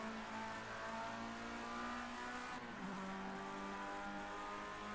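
A Formula Ford race car accelerates hard, its engine note loud and sustained with rising revs and a brief dip partway through, heard up close from on board.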